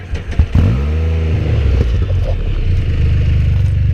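A Can-Am Spyder F3S three-wheeler's engine revs up to about 8,500 rpm, its pitch rising and then falling back to a steady, muffled idle rumble, close by with no talk.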